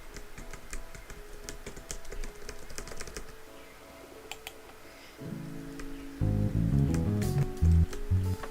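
Computer keyboard keys pressed in quick irregular clicks and taps, soft at first, then joined by louder sustained tones and a heavier thump near the end.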